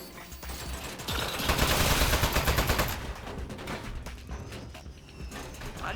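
Turret gunfire in the game Aperture Desk Job comes as a dense rapid burst of sharp cracks with mechanical clatter, loudest in the middle, then broken clicks and rattles trailing off.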